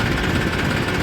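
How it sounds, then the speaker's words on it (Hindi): A tractor engine rumbles steadily and close by as the tractor turns around in a farm field, with a dense, even drone and no voices. "अपनी ट्रैक्टर को मोड़ रहे हैं"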